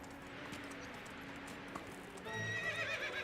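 A donkey's hooves clip-clop in the medieval village of the game Medieval Dynasty, a soft steady walking rhythm over ambient background that grows a little louder and busier near the end, with no talking.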